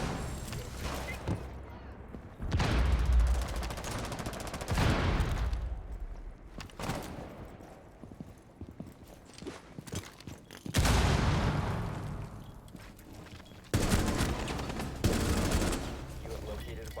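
Gunfire in the Rainbow Six video game comes in repeated bursts of rapid automatic shots and heavy cracks, with loud volleys recurring over seventeen seconds and a voice speaking between them.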